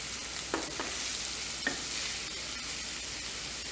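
Carrot and potato curry sizzles steadily in a pan as it is stirred, a continuous close frying hiss broken by a few light scrapes of the spoon, ending with a sharp knock.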